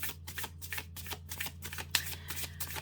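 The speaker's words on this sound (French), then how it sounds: "on va tirer 3 cartes" Oracle cards being shuffled for a three-card draw, a rapid run of crisp riffling flutters close by, steady and rhythmic with no talk.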